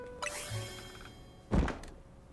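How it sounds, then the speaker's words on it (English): A door opens in Pokémon Legends: Z-A, a mechanical sliding whoosh with a tonal chime followed by a solid low thunk as it settles, heard clearly in a quiet scene. "Did that door just open?"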